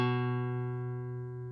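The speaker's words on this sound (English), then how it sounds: "Now take your second finger and place it on the second fret of the fifth string" A lone guitar note on the fifth (A) string held at the second fret, plucked once and left to ring with a warm, full tone that decays gently, heard up close in quiet.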